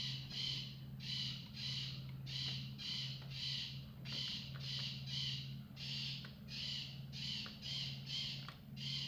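Crows cawing over and over in short rhythmic bursts, loud and close, over a steady low engine-like drone with no talking.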